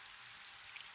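Steady rain pattering close by in a quiet night-time room, a dense even hiss with faint scattered drops, no voices.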